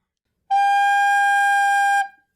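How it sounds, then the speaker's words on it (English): A single recorder note G sounds once, a pure steady whistle-like tone held for about a second and a half before stopping, close and alone. "The third note is a G."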